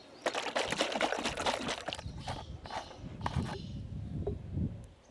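Liquid is sprayed straight onto a bed of cow dung, producing a steady splashing, trickling patter up close that thins and turns more sporadic toward the end.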